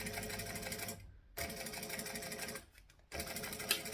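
A sewing machine back stitching on a handbag project: close, dense mechanical whirring in three bursts separated by two short stops as the direction reverses, with no voices.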